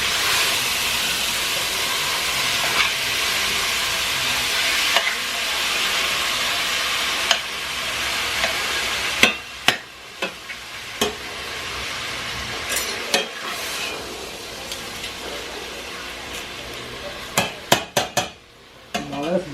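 Pepper steak browning in brown butter in a steaming hot pan: continuous loud sizzle and hiss, broken in the second half by sharp clacks and scrapes of stirring, close up with no talking.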